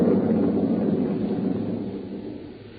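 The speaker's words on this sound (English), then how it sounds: "There was thunder and lightning around me" A thunder sound effect in a horror radio drama, a deep rolling rumble that stays loud and steady before slowly fading over a few seconds, with no voices.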